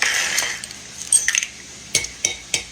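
Metal utensil clinking and scraping against an old large bowl while breaking up four eggs and mixing them for a Southern onion pie, with a soft swishing stir at first, then a few sharp taps.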